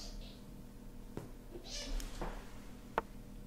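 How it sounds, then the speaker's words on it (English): Two white kittens scrap and meow, faint and somewhat distant, with a few brief yowls and scuffles over a quiet room background. "The two white kittens are having a scrap"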